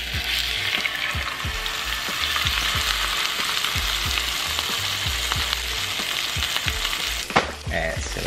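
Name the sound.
salmon frying in avocado oil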